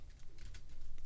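Keys tap on a computer keyboard in a quick, uneven run of soft clicks, quiet and close, with no talking.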